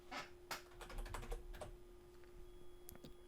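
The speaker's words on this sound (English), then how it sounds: "So we'll type title." Quiet, close keyboard typing while entering text on a computer, a brief flurry of soft clicks that thins to a few scattered keystrokes over a faint steady hum.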